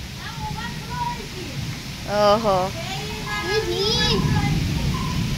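Heavy rain pouring down as a constant, close hiss, running steadily beneath children's voices and someone talking.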